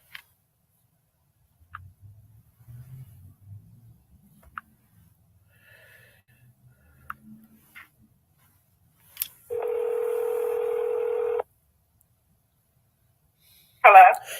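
Telephone line tones while calling a caller back: scattered faint clicks and handling noise, then a steady two-second tone and, near the end, a short sharp electronic beep, with no talking.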